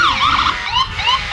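Loud, close siren from an EMS vehicle rolling through a dairy festival parade, rapid yelping warbles rising and falling several times in quick succession over low road noise, with no voices.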